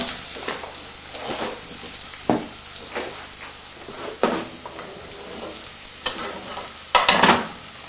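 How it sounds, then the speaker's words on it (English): Red peppers and browning onions fry in a pan with a continuous sizzle, punctuated by several louder scraping stirs and a sharp crackling burst near the end. "The onions are browning quite nicely, and we're ready to add the red peppers."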